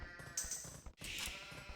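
A sheep in a strategy video game gives a couple of short, close bleats, brief nasal cries that stand out over a quiet low game backdrop.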